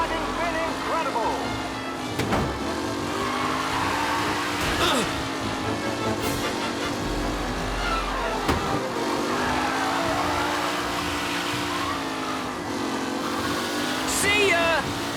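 Race cars circling a track in Mafia: Definitive Edition, engines droning steadily with rising and falling pitch as they pass, continuous throughout under an announcer's voice.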